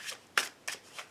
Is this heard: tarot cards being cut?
yes